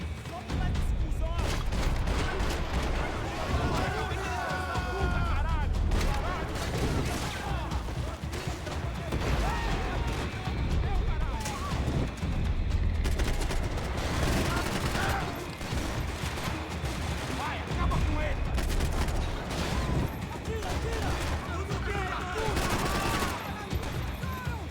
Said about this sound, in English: Switching from the AK to the FN FAL.